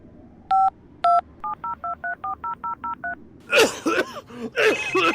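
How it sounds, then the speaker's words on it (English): A phone dialing out, two longer tones then a quick run of touch-tone beeps, followed by a burst of distorted, crackly noise. "Oh, got a call."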